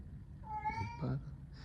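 A cat named Gatsby gives a single drawn-out meow rising into a second short mew, close and fairly clear over a low indoor room hum, with no talking.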